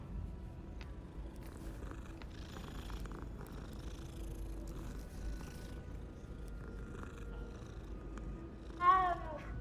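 A cat in the video game Hogwarts Legacy purrs softly and continuously, a faint low rumble on its own, ending with a short brighter chirp-like call near the end.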